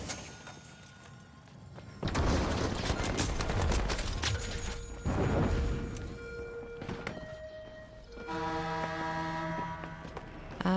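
Gunfire in the shooter game The Finals comes in two loud, crackling bursts separated by a lull, followed by a thud and a string of short electronic tones.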